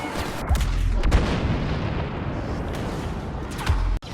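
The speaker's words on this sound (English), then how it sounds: "The thermal imploder, when it detonates," Thermal imploder power-up detonating in Star Wars Battlefront: a dense, loud, sustained explosive roar with heavy low rumble, punctuated by sharp booms near the start and a brief cutoff near the end.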